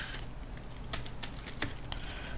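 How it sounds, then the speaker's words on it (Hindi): Typing on a computer keyboard during data entry into an Excel VBA form: a quick, irregular run of soft, close key clicks with a faint background hum and no talking. "जो भी हम यहाँ पर टाइपिंग कर रहे हैं"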